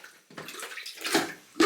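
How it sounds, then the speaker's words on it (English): Water sloshing and splashing in a tub as a small agitator plunger works through clothes during hand-washing of laundry, with irregular wet swishes and a louder splash at the end, close and moderately quiet. "Anna is using the little agitator plunger thing to go through on these clothes"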